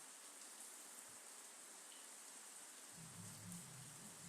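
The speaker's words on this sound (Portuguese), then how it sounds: "Vocês estão ouvindo o barulhinho da chuva?" Steady rain patters outdoors as a soft, continuous hiss, fairly faint and even throughout, with a low rumble joining near the end and no one talking.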